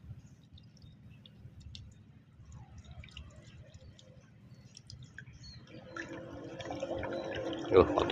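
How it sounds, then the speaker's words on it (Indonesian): Water is poured out of a container of mixed metal scraps taken from thin IC chips during gold recovery. Faint drips come first, then the liquid swells to a louder splashing pour toward the end. "Ya, kita buang airnya."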